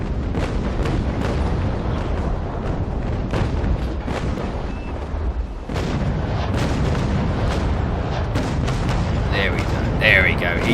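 Warship broadside cannon fire in the Naval Action video game during a Battle of Trafalgar sea combat, with a steady, loud rolling run of booming shots that continues throughout.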